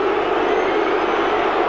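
A roar rises from the stands at a Charlton Athletic v Sheffield Wednesday FA Cup third-round football match, a dense, loud, sustained crowd cry.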